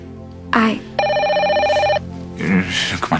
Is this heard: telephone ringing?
yes